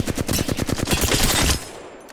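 A rapid burst of automatic Flatline rifle fire in Apex Legends, loud and close with steady even shots for about a second and a half before trailing off into a short decay.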